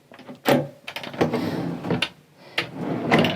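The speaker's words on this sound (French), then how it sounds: "Les tiroirs." Drawers in a Morelo Empire Liner 98 motorhome slide open and shut, several close, solid runs and thuds in quick succession with soft knocks between them, no talk over them.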